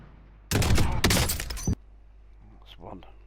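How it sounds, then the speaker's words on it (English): A short, loud burst of rapid gunfire from a retro video game cracks out for about a second, then stops abruptly, leaving faint quiet game sounds behind. "9 shots. Let's see if I can make them count."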